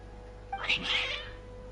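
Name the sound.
cats meowing, from the video game Genshin Impact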